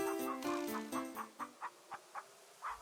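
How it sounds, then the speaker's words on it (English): Chickens clucking in the King's Quest III adventure game, a run of short, evenly spaced clucks following an opening burst of louder squawking, heard alone with no voices. "You gently pluck a feather from the chicken and gently set it back on the ground."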